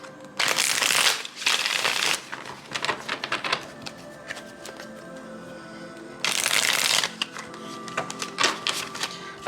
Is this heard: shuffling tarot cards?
yes